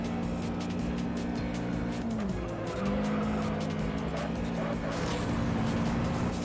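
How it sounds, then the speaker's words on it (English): Several cars skid and squeal in a multi-car pile-up in the racing video game Juiced, a steady engine drone with a dipping tire-squeal tone running loud and continuous throughout. "That was genuinely like a 5-car pile-up. I narrowly escaped."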